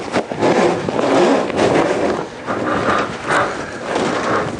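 A horse being loaded up into a trailer, loud close thumps and scuffs of hooves on a hollow ramp and floor, in uneven bursts with rattling in between.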